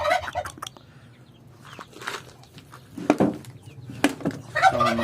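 Native white chickens and chicks in a hot coop give scattered clucks and peeps, with shuffling and a few sharp knocks, fairly close and continuous, no talking.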